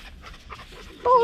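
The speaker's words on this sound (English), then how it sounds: "Oh, look, it's a big puppy dog." A big dog pants in short, quick breaths at a campsite near Cape Tribulation in the Daintree rainforest, fairly close, with a faint whine near the end.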